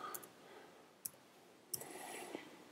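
Clicks from a computer mouse button while working in an Excel spreadsheet, three or four sharp, quiet, close ticks spaced apart over faint background hiss.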